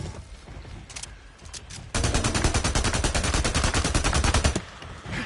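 Rapid automatic gunfire in the Days Gone video game while shooting at a bear, a long sustained burst of dense, evenly spaced shots following a few scattered earlier rounds, loud and close with no talk.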